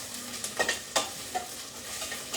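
Onions fry in a pan for chicken biryani, a steady close sizzle broken by soft clinks and scrapes of stirring, with no voices.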